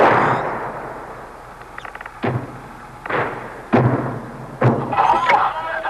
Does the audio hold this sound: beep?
no